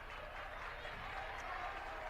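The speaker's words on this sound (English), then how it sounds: "you can hear the demeanor in this crowd just shifted after that travel call" A women's college basketball crowd in a gym reacts after a travel call, a sustained, fairly faint murmur with scattered clapping, steady throughout with no clear peak.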